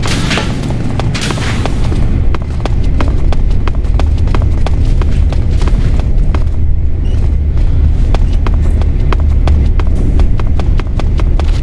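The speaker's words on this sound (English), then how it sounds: "I hear footsteps." Footsteps in the video game Metal Gear Solid 3: Snake Eater, a steady run of rapid hard clicks over a loud, dense game soundscape with low rumbling.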